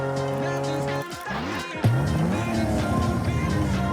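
An electric car in the video game Rocket League hums with steady whining tones, dips briefly, then surges into a rising synthetic whine with rumbling game noise.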